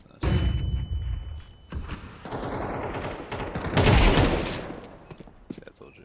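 Rapid bursts of AK rifle fire in the video game Counter-Strike crack loudly in quick succession, with echoing booms trailing off between volleys.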